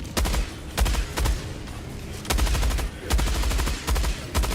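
Heavy automatic gunfire from a high-recoil weapon in the video game Helldivers 2, loud close bursts of rapid shots repeating in several sustained volleys with short gaps.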